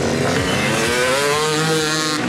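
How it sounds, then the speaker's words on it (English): A stunt motorcycle with a 252 two-stroke engine revs hard while warming up at an extreme stunt show. The loud, buzzy engine holds close by, and its pitch climbs and dips as the throttle rises and falls. "Warming up their bike, getting the feel for the surface."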